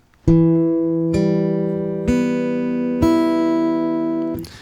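The same low guitar note, E on the fourth string at the second fret, is plucked four times in an even rhythm, each ringing out clearly before the next.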